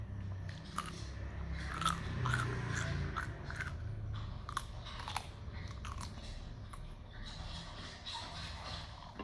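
Close, wet chewing and crunching of sticky rice with grilled pork, steady bites and mastication continuing throughout over a constant low background hum, no talk.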